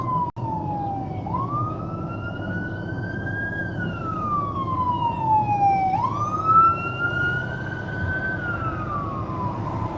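A passing fire department emergency vehicle's siren wails in long rising and falling sweeps, loud and steady over constant road and engine rumble for the whole stretch.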